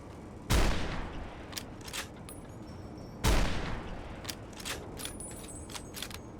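Two loud bursts of armor-piercing gunfire in Fallout: New Vegas, each a sharp heavy blast with a decaying tail, followed by scattered smaller shots and clinks.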